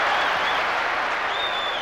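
A home football stadium crowd at a 1996 Champions League match between Manchester United and Juventus roars and applauds, a dense, continuous wash of cheering and clapping throughout.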